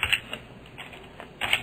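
Keys tapped on a computer keyboard while entering PHP code in an IDE, a few quick soft clicks spread across the moment, with a denser burst of keystrokes at the end, close and fairly quiet.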